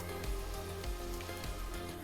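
Okonomiyaki batter dropped into an oiled hot pan, sizzling and crackling with a steady rain-like patter and small pops, moderately quiet, with no talking.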